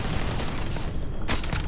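Weapon fire in the game Starfield rattles in a dense, noisy barrage, with a sharp, louder shot bursting near the end; close and continuous, without speech.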